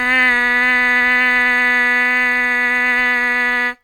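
A trumpet mouthpiece buzzed alone on a steady C sharp, one sustained, rich nasal tone held loud and even for nearly four seconds before cutting off abruptly.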